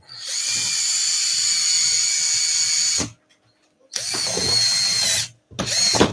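A power tool runs close up, tapping out a screw hole in a plastic RC car bumper: a steady high whine for about three seconds, a pause, another two-second run, then a short final burst.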